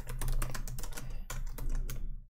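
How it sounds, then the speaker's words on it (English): Fast, steady typing on a computer keyboard, a newer model that feels lighter than a 2017 one, with close, crisp key clicks running continuously for about two seconds and then stopping. "so much easier to type on this keyboard than on the 2017 one"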